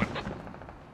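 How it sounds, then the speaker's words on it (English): AR rifle fire in a military video game, coming from the north at a distance: a sharp report followed by a rapid rattling burst that echoes and fades. "Look at that's AR fire coming from the north from Bybee and Zabari maybe."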